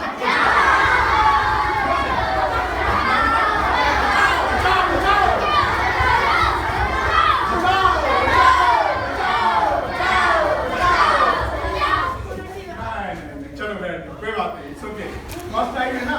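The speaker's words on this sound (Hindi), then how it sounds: "चिल्लाओ जरा, बचाओ।" Schoolchildren at a composite school in Azamgarh shout "bachao" together during a safety drill, a dense, loud crowd of young voices yelling continuously, thinning out toward the end.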